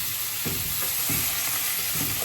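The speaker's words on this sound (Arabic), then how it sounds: "بعد كده بنزل فيه اللحمه بتاعتنا،" Meat sizzles and fries in a little oil in a hot pan for a stewed meat and vegetable tagine, a steady close hiss broken by a few soft scraping stirs.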